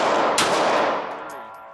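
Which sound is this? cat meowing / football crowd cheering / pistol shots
pistol shots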